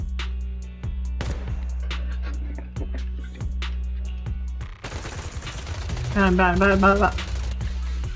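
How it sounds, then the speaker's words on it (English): Rapid bursts of gunfire in Zenless Zone Zero crackle through a steady low hum, with sharper volleys piling up near the end. "Gunfire? This pattern. Suppressive marching fire."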